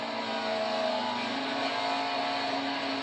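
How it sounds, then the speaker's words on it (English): A NASCAR race car at Watkins Glen downshifts into the bus stop chicane, its engine note stepping through gears as a steady, moderately distant roar with no one talking. "you'll hear him come down and downshift into the bus stop here"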